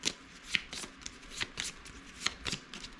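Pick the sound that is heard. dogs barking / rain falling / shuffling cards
shuffling cards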